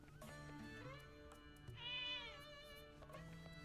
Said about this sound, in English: Many cats.